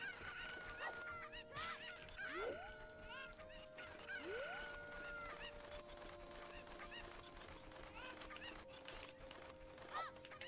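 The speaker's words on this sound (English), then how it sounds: "that chicken is already close over here" A chicken crowing inside the video game Ocarina of Time, repeated honking cackles over steady game music and background effects, fairly close.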